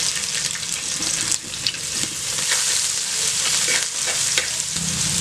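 Fennel seeds and spices crackle and spit in hot oil, a loud, dense, continuous sizzle from close by with scattered sharp pops throughout and no voices.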